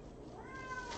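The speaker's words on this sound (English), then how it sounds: "I gotta open this door so that my cat will stop going nuts" A pet cat named Whittle meows insistently at a closed door, its drawn-out, rising cries sounding close and clear against a quiet room.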